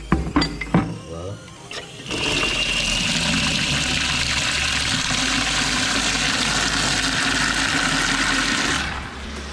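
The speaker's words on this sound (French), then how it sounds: "Voilà, on met de l'eau là-dedans." Water gushes steadily into a car-wash shampoo bucket, a loud, continuous rushing splash that runs for about seven seconds. A few clinks and handling noises come first, and the flow cuts off just before the end.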